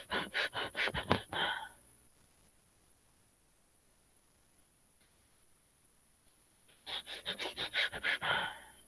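A voice imitates a patient's Cheyne-Stokes breathing: a quick run of rhythmic, rasping breaths builds up and fades, a long silent pause follows, and then another cluster of breaths starts again, close and fairly loud.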